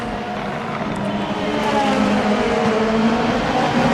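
Race car engine in the Formula Hololive racing video game at the SUGO circuit, a continuous high-revving drone that swells slightly louder, with no talk.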